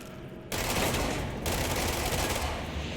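Rapid gunfire bursts out in the video game Control, a dense, loud sustained rattle of shots that starts suddenly after a brief lull and carries on without pause.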